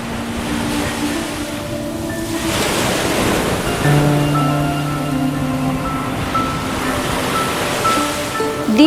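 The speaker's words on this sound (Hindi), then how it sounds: "दीपम आती जाती लहरों के बीच खड़ा था।" Ocean surf rolls in and washes back in a steady roar, with swells rising and fading over several seconds amid wind buffeting the microphone.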